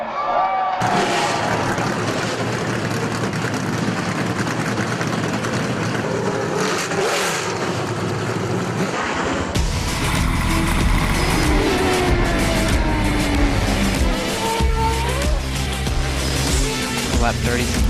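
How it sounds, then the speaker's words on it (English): Race car engines fire up and rev together at an Indy asphalt oval race night, a loud continuous roar of several engines rising and surging, with crowd and announcer noise mixed underneath. "Drivers, start your engines!"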